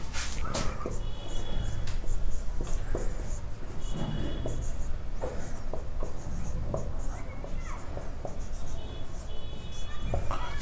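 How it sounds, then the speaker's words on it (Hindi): Pen or marker writing out the word Independence, scratchy strokes in steady bursts up close with brief pauses, continuing through the whole stretch. "इंडिपेंडेंस यहां लिख लेता हूं"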